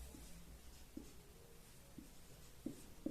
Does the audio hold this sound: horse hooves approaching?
no